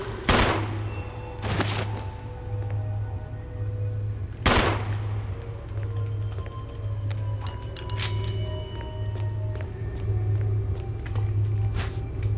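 Bursts of automatic gunfire from Jill's weapon in the Resident Evil boss fight, with sharp loud shots near the start and around the fourth second over a steady low droning hum and scattered game effects.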